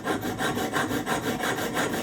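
Rhythmic back-and-forth sawing through a stainless steel bolt, a steady run of about seven even strokes, close and loud with no talking.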